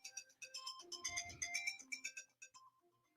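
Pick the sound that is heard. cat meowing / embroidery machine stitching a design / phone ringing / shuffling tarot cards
phone ringing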